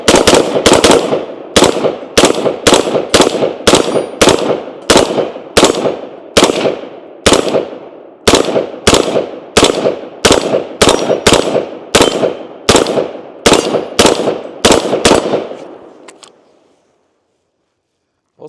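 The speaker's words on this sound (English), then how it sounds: "So now let's go ahead and take a few shots" A Sig M400 SDI Series X AR-15 rifle fired in a steady series of about two dozen loud, sharp cracks spaced under a second apart, each with a short ringing tail, then the shooting stops.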